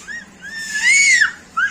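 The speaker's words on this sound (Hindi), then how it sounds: "जो हमारा लंगूर चिल्ला रहा है।" A pet langur monkey screaming close by, two or three shrill rising-and-falling cries with the longest in the middle, loud and alone.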